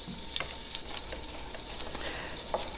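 Oil sizzling steadily in a cast iron Dutch oven as aromatics cook, a constant crackling hiss with scattered sharper pops, close and alone.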